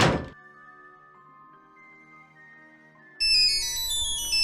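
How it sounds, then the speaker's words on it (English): A cell phone rings in the mystery game Nancy Drew: Curse of Blackmoor Manor, a loud bright electronic ringtone that bursts in after a short thunk and a quiet stretch of ambient tones. "There goes my cell phone."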